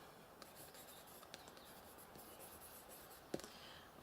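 A pen moves across the paper of an art journal in faint, close, steady scratching, with a few soft taps and one sharper tick, with no talk heard.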